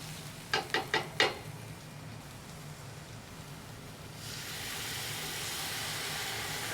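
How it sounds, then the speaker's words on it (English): Broth poured into a simmering beef and kale stew brings a rising broad hiss of liquid that swells and holds, following four quick sharp clinks or taps at the start, near and without talk. "that means it's time to add our broth"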